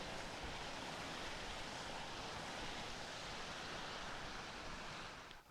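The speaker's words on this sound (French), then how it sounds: "une petite cascade au bruit que ça fait" A small waterfall cascades into a stream in a countryside wood, a steady, even rush of falling water that runs unbroken throughout.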